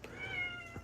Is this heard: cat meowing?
yes